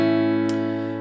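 Acoustic guitar in open G tuning with a capo on the 2nd fret, one chord sustaining evenly for about a second with a brief bright scrape partway through, heard alone.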